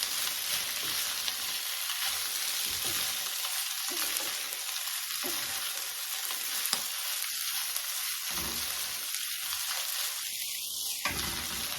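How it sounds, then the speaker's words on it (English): Onions and chorizo fry in a pan with a steady, loud, close sizzle throughout, broken by several stirring scrapes as the mixture is moved around, and no voices. "now we're going to add our onions that we cooked earlier. We're going to heat those through and get those just a little bit more brown"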